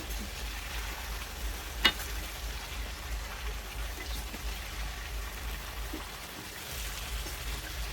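Chopped vegetables with cauliflower sizzling in a pan while cooking veg pulao, a steady soft frying hiss heard up close and alone, with one brief clink of a utensil.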